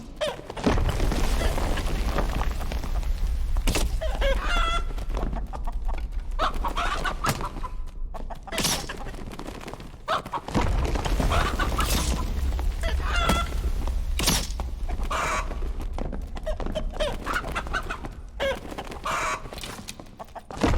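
A druid in chicken form in the game Dark and Darker, with repeated clucks and squawks over a loud, busy backdrop of combat noise and thumps, continuing throughout.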